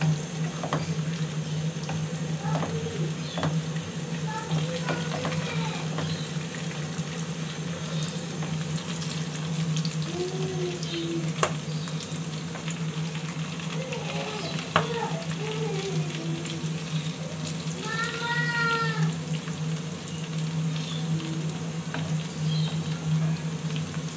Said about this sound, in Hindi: ये देखें कैसे हमारा ब्राउन हो रहा है प्याज।